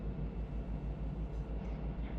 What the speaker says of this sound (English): Go ahead and start applying dynamic brakes